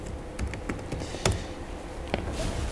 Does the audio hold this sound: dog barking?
no